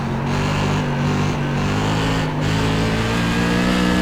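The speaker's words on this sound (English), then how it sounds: "You're going to hear a little bit more RPM down the straightaway." Race car engine in the iRacing sim, a Tour Modified at North Wilkesboro, droning loud and steady at high RPM down the straightaway with brief dips in pitch as the throttle lifts and reapplies.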